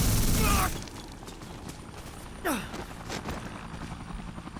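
A helicopter in the Dead Rising video game keeps up a rhythmic rotor chop, with a loud burst at the start and sharp crashing, sweeping effects partway through.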